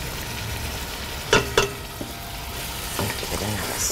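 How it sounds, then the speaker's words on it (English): Chicken frying with onions, ginger, garlic and spices sizzles steadily in a pan, with a few sharp scraping stirs and clanks of the utensil, loud and close. "Give it another stir."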